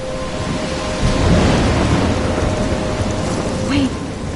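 A thunderstorm with rain in the video game Life is Strange: a steady heavy downpour hisses throughout while low thunder swells and rumbles, with a brief faint tonal blip near the end.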